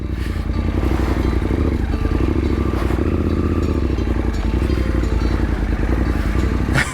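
A motorcycle rides through someone's garden on a rough Sulawesi backcountry route, its engine a steady loud drone close by, with clattering and scraping from the bumpy ground.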